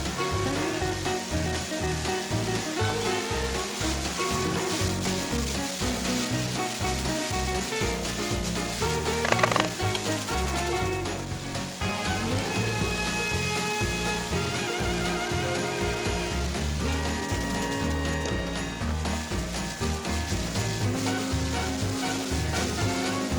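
Spring onion and chili sizzling in hot vegetable oil in a pan, a steady loud frying crackle that runs without a break throughout, with no voices over it.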